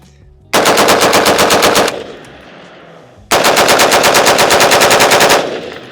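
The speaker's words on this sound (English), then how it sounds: "let's do a quick shooting ADD break." An airsoft G36 rifle fires two long, rapid full-auto bursts, each lasting over a second, separated by a brief pause with lingering room noise; loud and close with no talking.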